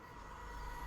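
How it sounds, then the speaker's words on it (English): In the Alan Wake video game, a train rushes past with a continuous, steady, broadband roar that fills the whole short moment. "Oh crap, a train."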